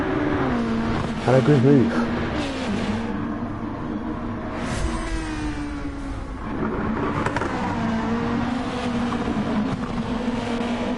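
Race cars at full throttle around Watkins Glen in a racing video game, engines droning and shifting pitch continuously, with a commentator talking over the top throughout.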